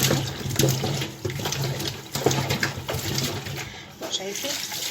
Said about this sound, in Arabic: هشطف بقى شطفه حلوه كده